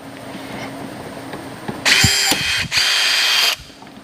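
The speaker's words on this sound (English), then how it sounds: "I'm going to go ahead and use my battery rivet gun here" A battery rivet gun sets rivets, with a washer behind each one, while fitting a Trackspec Motorsports Xtreme Flow wicker to a Nissan 350Z. Two loud, close mechanical bursts, each about a second long, stand above a quiet background.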